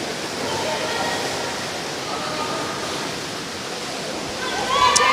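Swimmers churn through a high school pool during a meet, producing a loud, steady wash of splashing water that echoes around the hall, with voices heard under it.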